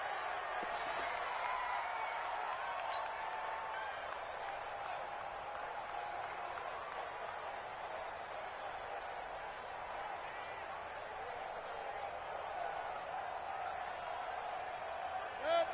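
Football stadium crowd at a Browns vs Broncos game, a steady broad roar of many voices with scattered claps and whoops, continuous and fairly distant throughout.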